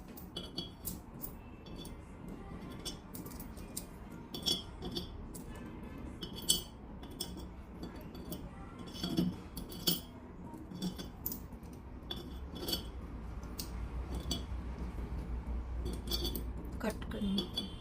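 Metal money coins set down one after another in a row, giving a steady run of small bright clinks and taps close by over a low background hum.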